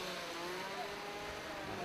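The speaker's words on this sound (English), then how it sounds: "the revving of the engine" A race car engine revs steadily on the starting grid at a sprint event at Teesside, a continuous droning roar held at a fairly even level, heard at a moderate distance.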